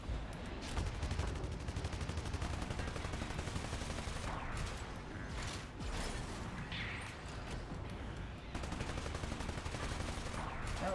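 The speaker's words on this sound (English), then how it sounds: "Oh, it looks like I'm shooting at myself." Continuous rapid gunfire in Spyro Reignited Trilogy, a dense unbroken stream of game shooting effects running loud throughout.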